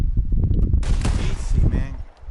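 A sharp revolver shot rings out with a long decaying tail, fired at bottles in Red Dead Redemption 2, set against low rumbling background noise and a brief voice.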